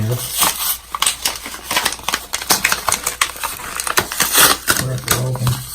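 Packaging for a Korky basic universal toilet flapper being ripped and crinkled by hand, a close, loud run of sharp tearing and crackling bursts, with a voice speaking briefly in the background.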